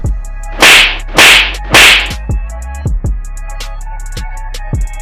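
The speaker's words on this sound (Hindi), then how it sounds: "जैसे ही दरोगा जी के गालों पर लगे थप्पड़ की आवाज सुनाई देती है" A police officer is slapped hard across the cheek: three loud, sharp cracks in quick succession, followed by a few softer thumps, with no voices.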